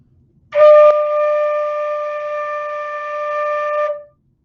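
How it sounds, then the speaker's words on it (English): A single flute note rings out steady and clear for about three seconds, starting with a breathy attack and fading at the end. "Here's what my D note sounds like."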